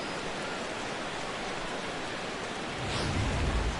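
Steady hissing rain pours throughout a baseball video game, a dense even wash of noise, with a low rumble swelling near the end like distant thunder.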